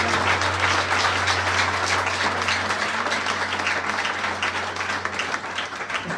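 A church congregation applauding steadily, a dense, loud wash of clapping filling the room without pause.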